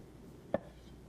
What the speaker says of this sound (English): Then we're just going to come and slice very carefully, just like that.